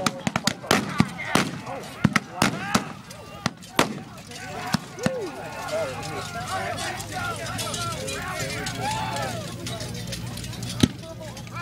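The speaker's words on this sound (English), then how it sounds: "Confederate cavalry is using carbines, shorter rifles that they could more easily carry and fire from horseback" Confederate cavalry carbines fire at a Gettysburg battle reenactment, a string of sharp, separate gunshot cracks in the first few seconds and another near the end, heard over steady talk and crowd murmur.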